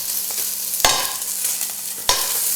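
Beef brisket sizzles steadily in a hot pan, broken by two sharp clanks of a utensil as the seared meat is lifted out.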